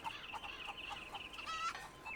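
Chickens cluck in Red Dead Redemption 2, a run of short, repeated calls with a few longer squawks, fairly close and steady over a quiet background, with no talking.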